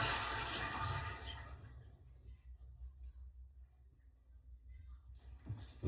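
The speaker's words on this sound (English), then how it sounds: "That's a full flush." A household toilet, fitted with a Brondell eco seat bidet, gives one full flush: a loud rushing surge for about a second and a half that drains away into quieter refilling water, with a second gush starting near the end.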